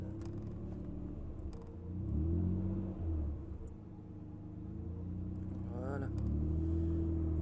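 A Nissan Skyline GT-R R34 Nismo V-Spec pulls away slowly from a standstill, its engine rumbling steadily with a gentle rev as it moves off, while people talk over it nearby.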